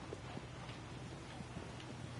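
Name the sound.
horse trotting in Shadow of the Colossus, video game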